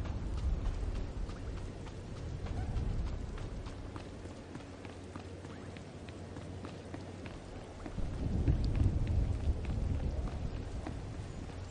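Steady rain with low rumbling thunder in a dark outdoor area of the Star Wars The Old Republic video game, a continuous wash of sound that swells louder near the end.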